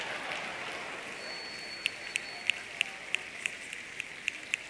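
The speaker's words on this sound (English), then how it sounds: "I want you to snap your fingers exactly 50 times" An audience snapping their fingers, a series of about ten sharp, evenly spaced snaps over a faint background murmur, growing steady and crisp after a quiet start.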